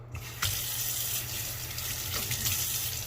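Water runs steadily from a tap to soak a sofa during upholstery cleaning, a constant close gushing hiss after a brief start, with no one talking.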